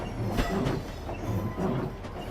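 A high-speed train in the Train Simulator game running along the line from London to Faversham, with a steady rumble and rhythmic wheel clatter throughout.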